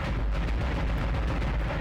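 Cannons blasting asteroids in the video game Dead Space, a dense, continuous barrage of booming shots and rumbling impacts, loud and unbroken with no talk.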